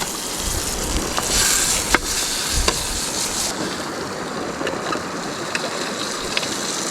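Trout cooking over an open campfire outdoors beside a Nova Scotia river, giving a steady close sizzling hiss with a few sharp crackles and pops scattered through, no voices.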